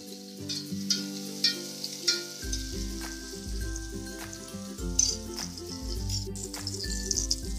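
Loud sizzling of tomatoes frying in a tempering with scraping stirring sounds, while steady background music plays throughout.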